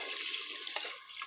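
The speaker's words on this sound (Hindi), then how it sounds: "अब इसमें हम तकरीबन 1 लीटर के करीब पानी डालेंगे" About a litre of water pours into a pot of cooking nihari, a steady splashing gush that runs the full length at moderate loudness with no talking.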